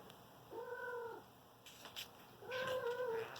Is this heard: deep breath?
no